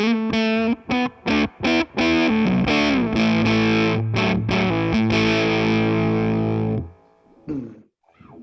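Electric guitar on the bridge pickup with the tone knob rolled off, played through a Boss TB-1w Tone Bender fuzz pedal, gives thick, saturated fuzz: a few choppy stabbed chords, then long sustained notes that fade, with string noise at the end.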